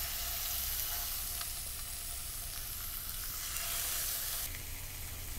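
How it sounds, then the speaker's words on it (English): A trout fillet searing skin side down in olive oil in a hot pan: a continuous, even, fairly loud sizzle and hiss with small crackles, no speech. "lay it skin side down into the pan"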